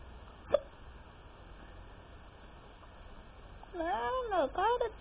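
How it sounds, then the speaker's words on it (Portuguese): A single sharp hiccup stands out early on, followed by a quiet stretch and then a burst of warbling, voice-like sound, all under low background noise. "Para de soluçar, mano."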